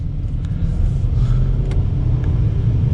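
2021 Mercedes-Benz S 580 accelerating hard on paddle shifters, a steady, muted cabin rumble of engine and road noise with faint shift ticks and no sharp roar.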